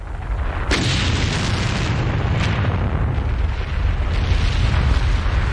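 A volcanic eruption effect on the Raven mountain thunders with a sudden booming blast, then keeps rolling as a loud, continuous rumble with further cracks and bursts layered on top.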